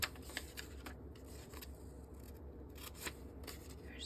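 Scissors snip through paper while cutting out a jacket torso pattern, a run of short crisp clicks and rustles close by and fairly quiet, with no voices.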